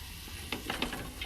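A spoon stirs a pot while pork drippings are deglazed with white vinegar, giving a steady sizzle with a few brief scraping strokes against the pot bottom, close and moderately loud.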